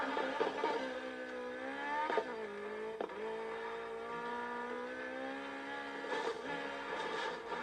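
A Subaru WRX in the racing game Need for Speed Heat revs and accelerates with a steady engine drone, pitch rising and dropping through gear shifts, loud and close throughout with no talking.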